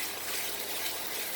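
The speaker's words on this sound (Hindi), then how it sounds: "थोड़ा थोड़ा साथ पानी डालते जाएं।" Water poured gradually into a pan of kofta cooking over a medium flame, a steady, close rushing hiss with no pauses.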